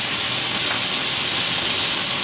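Butter sizzles and spits in a hot frying pan while something is being cooked, a loud, steady, close crackling hiss with no pause.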